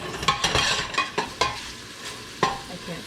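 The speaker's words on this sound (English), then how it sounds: "In the pan we got some bacon crisping up." Bacon crisps up in a frying pan with a steady fat sizzle, broken by sharp scrapes and clinks of a utensil stirring and pushing it around, close up and with no talking.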